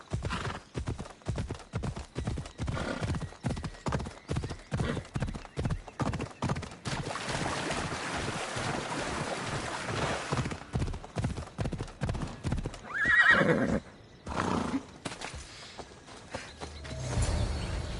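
A horse named Phobos gallops at speed in Assassin's Creed Odyssey, with rapid, steady clip-clop hoofbeats that run nearly throughout and a loud neigh partway through, with no talk.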